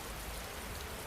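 Steady rain falling on a surface, a dense even hiss of drops with no pauses, soft and continuous.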